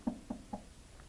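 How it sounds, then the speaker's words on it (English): Three evenly spaced, muffled knocks on a door during a puppet-theater storytime, quiet and close, followed by a fainter fourth tap. "pretty soon there was another knock on the door"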